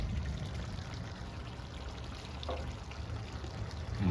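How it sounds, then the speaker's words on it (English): Water is poured in a thin, steady stream during backyard outdoor cooking. It is quiet and close, with a brief splashy burst midway and a louder finish. "let me just add a little water here"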